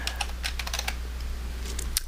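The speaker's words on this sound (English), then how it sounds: "I'm pushing the F keys now, F1, F2, F3" Computer keyboard F keys pressed one after another, a quick cluster of crisp clicks followed by a few more scattered taps, close and clear over a low steady hum.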